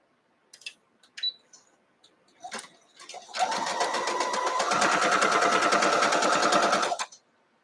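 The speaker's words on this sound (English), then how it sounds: "So I'm going to sew those two together." Sewing machine stitching quilt block pieces together for a gift box bow quilt block: a few light clicks and handling noises, then a steady, fast whirring run of stitching that holds for about three and a half seconds before stopping.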